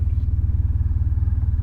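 A big Honda Crosstourer adventure motorcycle engine throbs in a low, even pulsing rumble at steady revs, loud and close throughout the short stretch.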